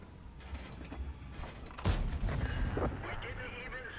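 A T832 tank's main gun fires once in a tank video game, a sharp broadband boom about midway that rolls into a reverberant tail, with mechanical creaks and game ambience around it.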